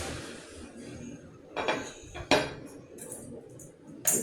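A knife cuts a baked lemon tea cake into pieces, giving a few scraping, clinking strokes against a tray or plate, close by and without talk.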